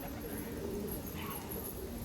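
Home pigeons coo softly at close range as they settle and land one by one around a house, a faint low murmur of calls over quiet background.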